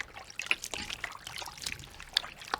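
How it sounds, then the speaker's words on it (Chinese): Cooled rock sugar water trickles and dribbles onto marinating pork slices in a kitchen, a soft, close, uneven pour with small liquid splashes. "再加入凉透的冰糖水"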